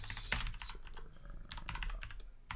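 Rapid typing on a computer keyboard entering a command, with quick clustered keystrokes and brief pauses between bursts, close and fairly clear against faint room noise.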